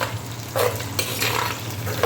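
Shallots sautéing in a pan for a traditional fish curry, with a steady soft sizzle and a few louder bursts of stirring and spoon scraping against the pan, no voices.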